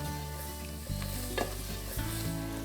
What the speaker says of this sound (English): I'm making a roux with leeks in